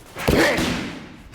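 A Muay Thai kick lands on a training pad with a single sharp, loud thud, followed by a short fading rustle.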